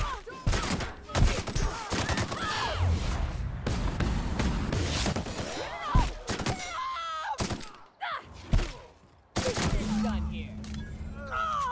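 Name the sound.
gunfire from The Outer Worlds video game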